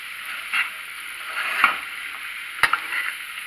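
Broccoli and prosciutto being tossed in a hot frying pan, a steady sizzle with a few soft scrapes and clatters of food shifting in the pan.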